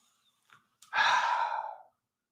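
One slow, deep exhaled breath, preceded by a faint quick inhale, soft and close, airy and sustained for about a second before trailing off into silence.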